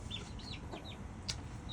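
A rescued backyard hen called Sweetie Girl gives a few soft clucks and short chirping calls close by, with quiet farmyard background noise underneath.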